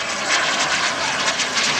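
A model jet powered by a gas turbine engine makes a flying pass, its steady, loud roar and hiss filling the air continuously throughout.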